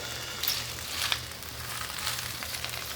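Spinach searing in a dry, seasoned pan with no oil, giving a soft, steady sizzle with faint crackles over a low background hum.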